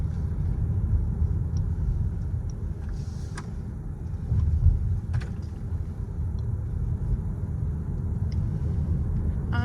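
A car rolls along a road in France, giving a steady low rumble of engine and tyre noise from inside the cabin, with a brief swell midway and a few faint clicks. No one talks.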